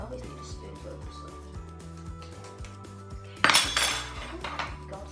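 A spoon clinks and scrapes against a dish and a tin of canned peach halves, with a louder metallic clatter partway through, while a low hum runs underneath.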